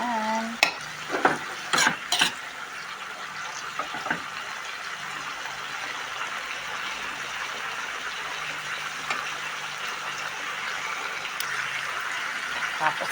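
Sautéed vegetables are stirred in a hot pan, with a steady sizzle throughout and a few sharp scrapes and clinks of the utensil near the start, while a person talks.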